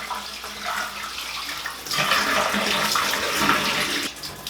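Water running and splashing into a bathtub beneath a watered houseplant, a steady close wash of trickling that grows fuller partway through, with no voices.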